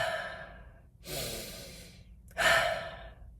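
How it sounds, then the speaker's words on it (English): Two slow breaths, each a soft inhale through the nose followed by a longer, airy exhale through the mouth, close and quiet. "Slow inhales through your nose, long exhales through your mouth."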